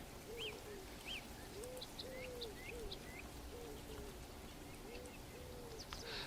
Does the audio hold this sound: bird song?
yes